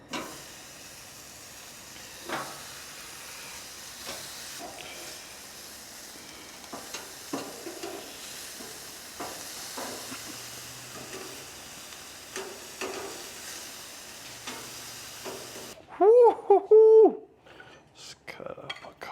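Marinated Kalbi ribs sizzle steadily on a grill, a continuous close hiss with scattered pops and clicks, ending with a brief burst of a different tonal sound.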